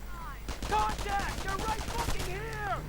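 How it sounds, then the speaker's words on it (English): Repeated gunfire and explosive booms from a Sturmhaubitze assault howitzer in a World War II strategy video game, loud bursts over roughly two seconds mixed with clattering battle noise and a low rumbling background. "Sturmhaubitze opens up with its howitzer."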